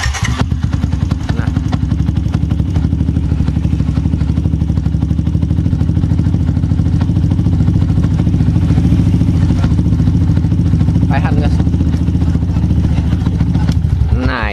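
A Yamaha Jupiter MX King motorcycle engine, started cold with its radiator full of coolant, runs at a loud, steady, close idle with a rapid even chugging pulse throughout, while someone speaks briefly over it.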